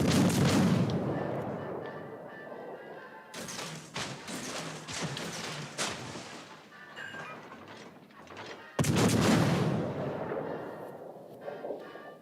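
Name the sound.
naval guns firing in World of Warships: Legends video game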